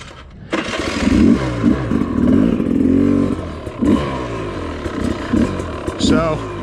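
A 2019 Sherco SE 300 dirt bike engine revs and burbles nearby in uneven bursts, rising and falling as the throttle blips, with someone talking over it.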